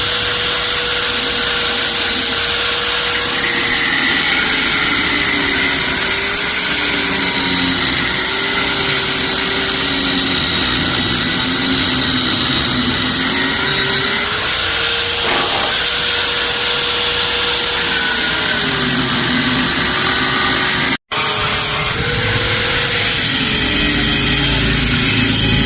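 Angle grinder cutting a metal part for a Honda Click 125 scooter, a loud, continuous close whine with slight pitch wobbles as the disc loads, briefly cutting out near the end then resuming.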